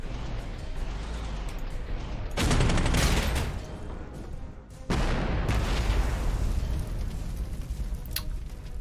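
Heavy artillery fire in the wargame Panzer Campaigns, including a 15cm gun, comes as two loud booming bursts of rolling, rumbling fire, each followed by sustained crackling volleys with no talk.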